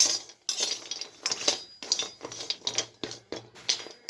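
Ingredients are stirred while being dry-roasted in a hot kadhai, producing repeated bursts of scraping and rattling clinks in an irregular rhythm, close and fairly loud, with no talk.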